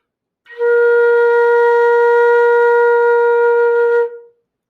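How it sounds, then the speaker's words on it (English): A single sustained B-flat on a flute, steady and clear with a bright pure tone, held alone for about four seconds before fading out. "And the B flat's going to sound like this."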